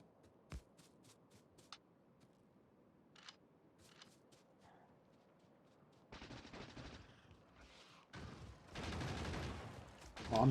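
Gunfire in the video game Factorio Space Age. It starts with scattered faint pops and clicks, then builds into denser bursts of rapid shooting toward the end, all at low volume.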